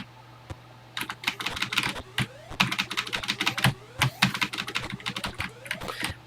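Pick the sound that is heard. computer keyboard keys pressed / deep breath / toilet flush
computer keyboard keys pressed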